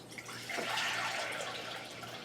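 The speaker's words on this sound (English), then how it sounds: "Could pour this pitcher in." Juice pours from a pitcher in a continuous splashing stream, rising quickly and then running steadily and close by, with no talking.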